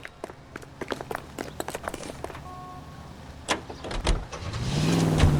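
A car in the L.A. Noire video game starts off with sharp clicks and door sounds, then its engine rises into a building drone toward the end.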